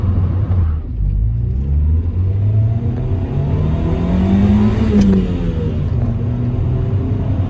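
A Honda Civic EK engine drones and revs through high corners, its pitch rising and falling with throttle changes under a steady low rumble, loud and close as if heard from inside the cabin.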